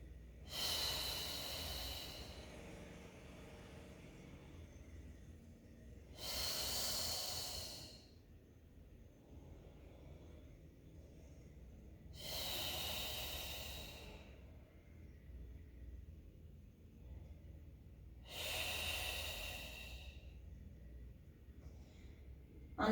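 Four slow, deliberate breaths during a Pilates-style core workout, each a loud, airy exhale-inhale burst lasting about two seconds, spaced roughly six seconds apart with quiet room tone between them and no talking.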